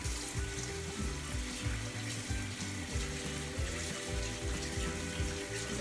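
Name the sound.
washing hands under running tap water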